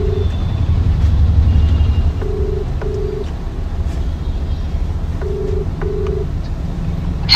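A phone call is dialed and then rings back in paired, steady electronic tones repeating at even intervals over a rumbling vehicle-like background hum.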